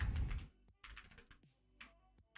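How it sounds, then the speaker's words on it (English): Typing on a computer keyboard, close and quiet, scattered key clicks in short irregular bursts with a thump at the start. "This is going to be a lot of D&G typing."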